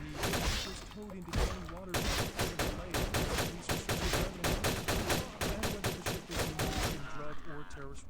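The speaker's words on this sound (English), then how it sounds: "You with your automatic weapon, you need to calm down." Automatic weapon fire in Vampire the Masquerade Bloodlines rattles in loud rapid bursts, dense staccato shots repeating almost continuously with brief pauses between volleys.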